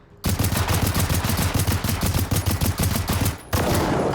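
Sustained rapid gunfire from the game Generation Zero, bullets striking a Phoenix tank, a loud dense stream of automatic shots with a brief break near the end before resuming.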